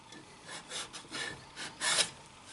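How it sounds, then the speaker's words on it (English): Sandpaper rubbing underneath a turned wooden hexagon-rimmed bowl, several short raspy strokes in an uneven rhythm, close and fairly quiet, the last stroke the loudest, with no voices. "So I'll probably sand underneath here and bring it down just a hair."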